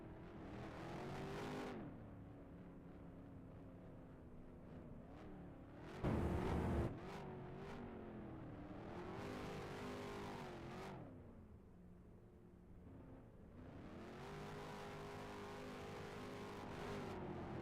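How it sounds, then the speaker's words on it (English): Engines of ROX Mods mini Indy race cars run and rev at a speedway, several motors droning and rising in pitch with throttle surges, one sharp burst near the middle, fairly distant and continuous with no speech. "can you guys shut your engines off, please?"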